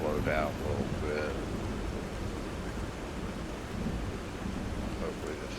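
Rain pours steadily during a night thunderstorm in The Last Caretaker, with low rumbles of thunder beneath and a brief voice-like sound near the start.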